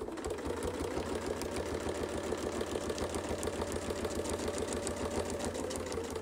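A sewing machine stitches a quilt along a Westalee Mini Baptist Fan template, its needle chattering in a fast, even, continuous rhythm close up, steady throughout with no voices.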